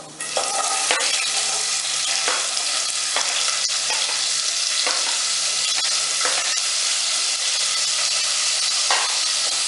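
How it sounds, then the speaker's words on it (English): Cumin seeds, onions and garlic fry in hot oil in a pan, giving a loud, steady sizzle with occasional stirring scrapes and crackles throughout. "as soon as they crackle or splutters, I'll add onions and garlic to this"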